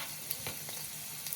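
Vegetables and garlic shaken in a pan with olive oil, with a steady low sizzle and light stirring clatters and soft scrapes as the pan is moved, close and continuous.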